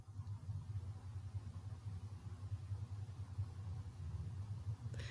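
A garbage truck passes outside, its engine giving a steady, low rumble that holds for several seconds at moderate loudness, with no voices over it.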